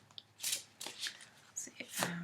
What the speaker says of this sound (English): I'm going to shuffle a little bit more. It's been a while since I've shuffled the deck.